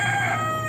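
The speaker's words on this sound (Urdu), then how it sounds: "جب تم مرغے کی بانگ سنو" A rooster's crow rings out as one sustained, steady call held close and clear for its full length, with no talking over it.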